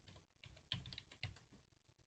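Keys tapped on a computer keyboard while a user ID and password are entered, a quiet, irregular run of clicks with two sharper strokes standing out, no voices.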